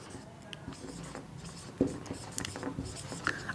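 Chalk or marker scratching on a classroom board during a Hindi grammar lesson, short strokes and taps scattered through the clip under low background noise and faint speech.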